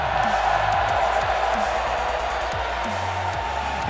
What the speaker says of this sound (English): I want to hear you guys cheer for this game